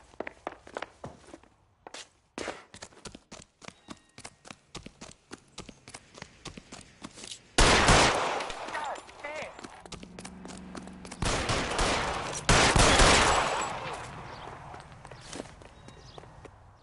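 Gunfire in the video game L.A. Noire, with a rapid run of sharp shots followed by louder, denser bursts of firing that come in two heavy waves, close and loud, with no talking.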